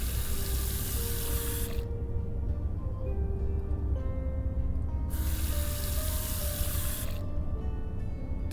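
Water running steadily from a tap into a mug in the video game Old Skies, a continuous hiss that cuts out briefly twice and resumes, close and clear with no talk.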